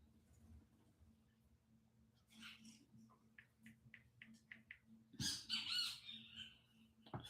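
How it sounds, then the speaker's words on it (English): A bird squawks nearby, a quick run of short, thin chirps followed by a louder harsh squawking burst over quiet room hum. "Damn bird come around here now to aggravate me."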